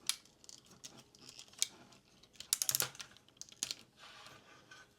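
Plastic heels of a Transformers Dark of the Moon Leader Class Sentinel Prime toy being folded out, giving a handful of sharp, close, quiet clicks and ticks in irregular bursts with no talking.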